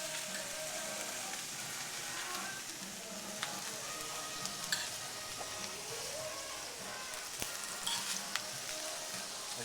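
Greens and asparagus being tossed in a hot pan: a steady, dense sizzle and crackle throughout, with a few faint clinks and scrapes from stirring.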